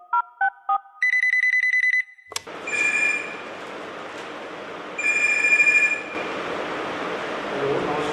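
A call to the Tapovan Childline helpline begins with a few quick keypad beeps, then a repeating ring tone sounds over a hissing line, pulsing several times with pauses.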